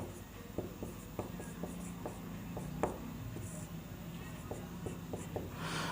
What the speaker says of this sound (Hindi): अब यहाँ पर लिख दें संस्कृत में